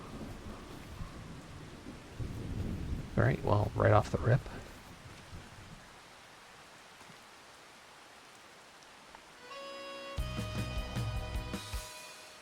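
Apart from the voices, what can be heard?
rain and thunder in the video game Farming Simulator 25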